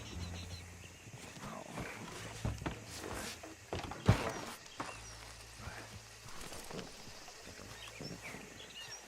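A horse-drawn wagon passing in Red Dead Redemption 2, with faint clip-clop hooves and creaking wheels amid soft ambient noise, with voices talking over it.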